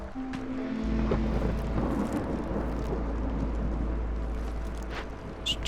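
Deep rolling thunder and steady rain from a storm in the video game Against the Storm, a sustained low rumble with scattered patter, loud and enveloping, with no voices.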